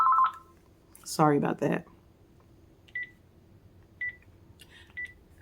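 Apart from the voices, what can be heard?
house phone ringing and beeping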